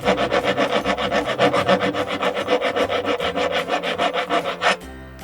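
A file rasps back and forth across a gear-contact part of a WPL C74 Jimny RC car, fast rhythmic strokes repeating steadily up close, then stopping abruptly near the end.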